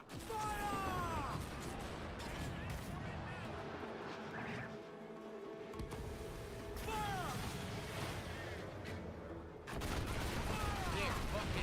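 Ship cannon volleys in Assassin's Creed Black Flag roar out in heavy booming bursts, with crashing impacts and a brief lull mid-way before another loud barrage, set against constant game battle noise and a voice.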